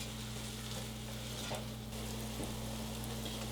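Ground turkey, kale and jalapenos sizzle and crackle steadily in a stir-fry pan, with a constant dense hiss, a few louder pops and a low electrical hum underneath.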